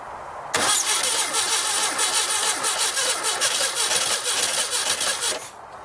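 A 1969 Baja Bug engine that sat for 29 years, cranking over with a steady, loud, rapid chugging that starts abruptly, runs about five seconds and then stops, firing unevenly.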